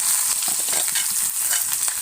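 Sliced onions fry with bay leaves in hot mustard oil in a pan, giving a close, loud, steady hiss of sizzling crackle throughout, with no voices.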